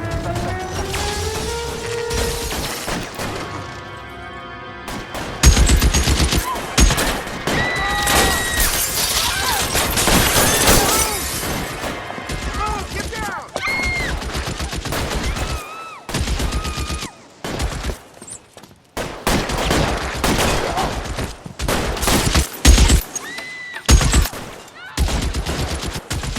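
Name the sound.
gunfire in the video game L.A. Noire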